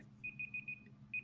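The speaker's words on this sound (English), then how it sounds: "So there's the timer" A two-minute timer goes off with a rapid run of four high electronic beeps, a short pause, then one more beep, quiet and clear over a low background hum.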